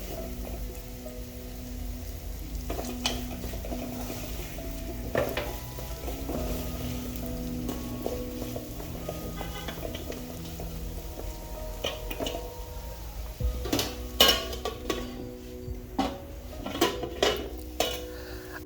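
Beef pilau seasoned with pilau masala being stirred in a pot, with a spoon repeatedly clinking and scraping against the metal over a low background sizzle; sharper knocks cluster toward the end, and no voices are heard.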